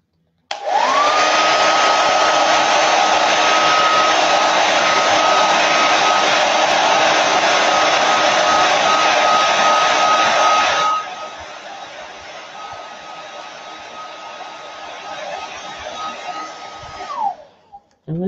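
A hair dryer blows hot air onto a glass window decoration, running loud and steady for about ten seconds, then dropping to a softer setting until it clicks off near the end.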